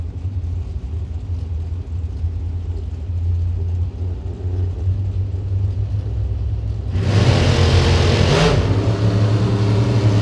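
Drag racing cars blast down the strip at a Gainesville event, a steady engine rumble building into a loud, broadband roar of full-throttle acceleration that swells near the end.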